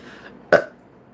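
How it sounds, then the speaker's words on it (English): A single short, loud human burp, close and sudden, in an otherwise quiet room. "It's always a yes when I burp, girl."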